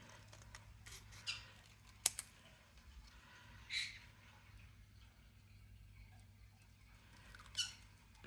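Scissors snip by hand through embossed card paper, a few sparse, soft cuts spaced seconds apart, close and fairly quiet.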